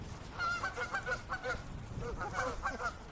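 Honking goose-like birds call repeatedly all around outdoors, overlapping calls forming a steady, busy chorus over low rumbling background noise.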